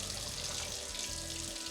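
One cup of water pours onto rice in a steady, continuous splashing stream, close and moderately loud, with no voices.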